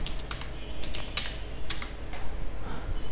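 Quick keystrokes clatter on a computer keyboard as a city name is typed, bursts of several taps separated by short pauses, close and clear against faint room hiss.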